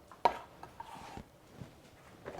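Roughly chopped candle nuts sautéing in a pan for satay sauce, with sharp clinks of a utensil against the pan and faint sizzling between scattered stirring knocks.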